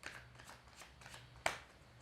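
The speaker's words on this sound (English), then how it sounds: "start shuffling, connect in with them" Tarot cards are shuffled softly in the hands, giving quiet riffling swishes with one sharper snap partway through, faint and close.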